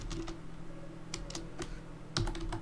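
Keys tapped on a computer keyboard while entering a post title, a quick run of clicks, pause, then further scattered bursts, close-up over a steady low hum.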